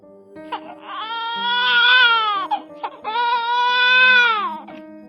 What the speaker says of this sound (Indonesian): tiba-tiba terdengar suara tangisan bayi di samping kamarnya